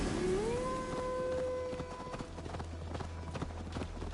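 Horse hooves clip-clop at a steady walking rhythm while riding in Assassin's Creed Valhalla, close and clear, with a rising musical tone and game ambience underneath.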